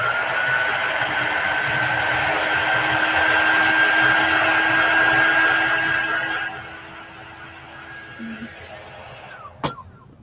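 A handheld heat dryer runs steadily and close for about six seconds, drying chalk paste on a craft project, then cuts off, leaving quieter room sound and a brief knock near the end.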